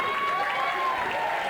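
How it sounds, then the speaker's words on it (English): Crowd noise from a wrestling audience at Ryerson University in Toronto, a steady roar of cheering and applause filling the room without a break. "And this crowd at Ryerson University loves it."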